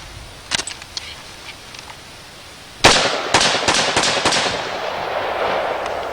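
Rifle gunshots outdoors, a few faint distant reports first, then a loud close shot followed by a quick run of sharp cracks with ringing decay.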